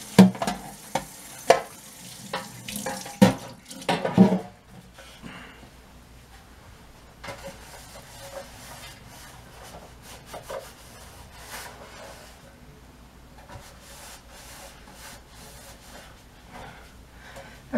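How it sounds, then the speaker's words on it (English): Rhythmic rubbing and scraping of a baking pan being scrubbed clean after washing, with a run of sharp, loud scrubbing strokes at the start, then softer, steadier scouring and faint clatter continuing quietly. "The pan's all scrubbed out"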